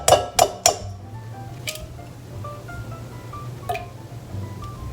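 Three sharp clinks of an egg being cracked against a mixing bowl for cookie dough, followed by lighter taps and scattered clinking.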